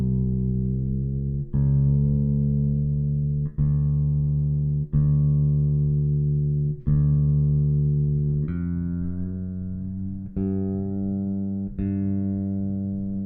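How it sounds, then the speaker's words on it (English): A bass guitar has its D and G strings tuned, with repeated plucked low notes ringing out and decaying, each struck about every two seconds and slightly adjusted in pitch, close and clear with no talking. "that was me just tuning the D and the G string in possibly about 30 seconds"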